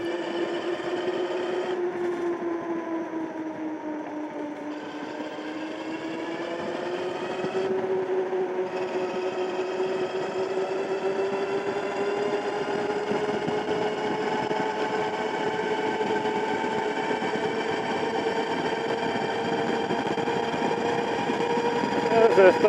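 Aniioke A8 Pro Max dual-motor e-bike whining steadily while riding at speed, a sustained electric motor hum whose pitch dips briefly then climbs and holds, near and fairly loud, with wind noise underneath.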